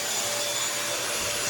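A bagless vacuum cleaner runs at close range with a steady, loud whooshing roar and a thin high whine, with no talk over it.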